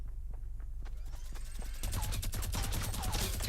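Minigun fire in a video game, starting as scattered shots and then swelling into a loud, dense, continuous rattling burst that carries on to the end, with a low rumble beneath it.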